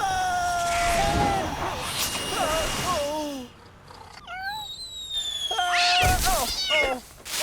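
A cartoon cat meows again and again in high, sliding, expressive cries, some drawn out like a caterwaul, loud and close, with a brief quiet gap partway through.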